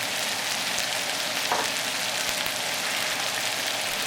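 Sausage fries in a pan on the stove with a constant, dense sizzle and crackle, loud and close, with no voices.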